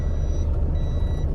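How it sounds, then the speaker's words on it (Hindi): A car sounds its reversing beeps outdoors: a high, steady electronic tone that sounds twice, with a short gap between, over a loud, low engine rumble. "गाड़ी जो ना वो रिवर्स करूँगी"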